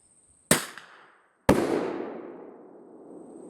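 A bear banger fired outdoors: a sharp launch crack, then about a second later a louder, deeper blast whose rumble decays slowly, quite near.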